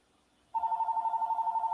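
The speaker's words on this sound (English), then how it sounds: "here's the phone ringing again" A telephone rings nearby, its steady warbling electronic tone starting abruptly and pulsing on without a break, with no talking over it.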